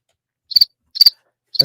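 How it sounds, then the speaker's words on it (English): Cricket chirps as a sound effect, three crisp, evenly spaced trills standing alone against silence, loud and close. "That's why we have crickets."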